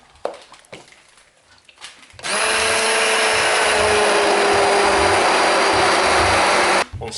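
A blender roars steadily for several seconds while pureeing Turkish lentil soup, loud and close, after a couple of seconds of light kitchen clatter and a brief tail at the end.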